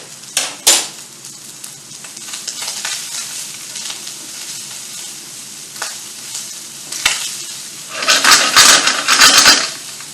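Butter hits a hot pan on the stove and sizzles steadily, with a spoon scraping and stirring at close range. Metal utensils clatter against the pan, and the sizzling swells loudly near the end.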